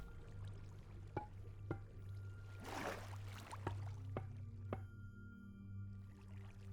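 Flowing water in Minecraft rushes up in a brief hissing swell near the middle, set against a quiet, steady low hum and a few soft clicks.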